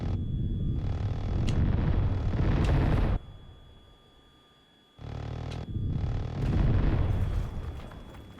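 Aircraft cannon fire in Tiny Combat Arena raking buildings: two long, loud bursts of rapid rumbling gunfire and blasts, separated by a quieter lull of engine drone, with sharp impacts punctuating each burst.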